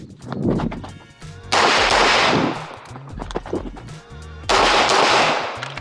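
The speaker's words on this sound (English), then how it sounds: "So shoot from about 13-ish yards." Pistol fire at a shooting practice range from about 13 yards: two sustained stretches of loud, sharp reports with a quieter gap between them.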